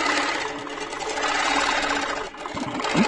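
A sewing machine stitches fabric on a larger stitch setting, running close and loud with a steady, rapid mechanical whir and clatter, then briefly slowing near the end before picking up again.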